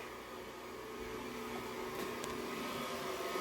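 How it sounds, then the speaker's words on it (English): An electric stand mixer runs on low speed, blending batter with melted butter and sugar for cranberry bliss bars, giving a steady, even motor whir with a soft mechanical hum throughout and no voices. "we're going to get this mixing in our mixer. I'm just going to put it on low"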